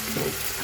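Spice paste sizzles and fries in a hot pan for beef kurma, a steady close crackling hiss with no talking.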